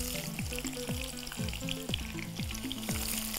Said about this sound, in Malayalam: നീളത്തിൽ അരിഞ്ഞു വെച്ചേക്കുന്ന ഉള്ളി നമ്മുടെ ഈ എണ്ണയിലോട്ട് ഇട്ടേച്ച്